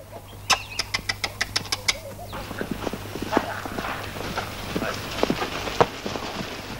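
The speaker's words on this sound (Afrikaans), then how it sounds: "Ag, is 'n perd." Horse hooves clip-clop in a quick, regular run of sharp knocks at the start, then continue as scattered, softer steps under a busy outdoor background with occasional louder thuds.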